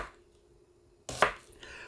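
Mushrooms and onions being cut with a knife on a board: a single sharp chop and a brief scrape after a quiet stretch, close and fairly clear, no voices.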